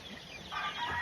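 Game farm chickens cluck in a brief burst of close, busy fowl calls, a few overlapping clucks with no voices.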